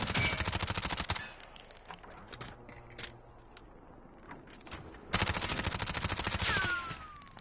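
Automatic gunfire in the video game Warzone, with loud sustained bursts at the start and end and quieter scattered shots in between, no voices over it.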